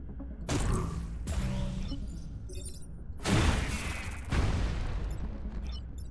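Units blowing up in the video game Into the Breach: several loud, rumbling blasts and crunching bursts in close succession, each with a shattering, mechanical tail.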